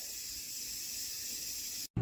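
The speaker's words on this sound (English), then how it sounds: "I'm waiting for this steam to quit so I don't burn myself" Steam hissing steadily from a pot of Jamaican oxtail, a loud constant broadband hiss lasting nearly two seconds before cutting off abruptly, followed by a brief low clatter.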